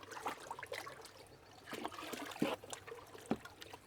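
A nutrient solution of NitroCal and Diamond Special T dissolved in hot water is poured into a tank, trickling and splashing unevenly in a few close, soft gurgling surges with no talk.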